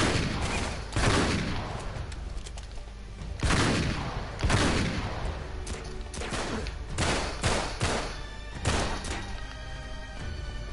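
Gunfire in the video game Uncharted 3, heavy shotgun-style blasts and bursts of shots arriving in repeated loud bangs among other combat noise, with no voices.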